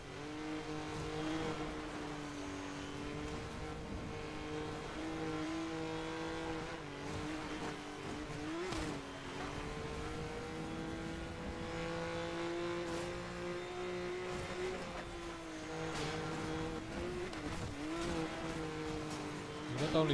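In the racing game Need for Speed Most Wanted 2012, a race car engine with short gears holds a steady, buzzing drone against the rev limiter, with brief dips for shifts and occasional tire noise, close and continuous.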